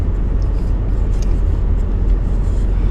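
Car driving slowly through snow in a low gear, a steady close engine rumble with road and tire noise, continuous and loud, no voices.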